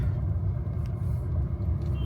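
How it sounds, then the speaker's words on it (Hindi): Road traffic on an evening drive home from Chakrata, a steady low rumble of car engines and tyres close by, continuous and fairly loud with no voices. "ये वाली ट्रैफिक तो मिलेगी"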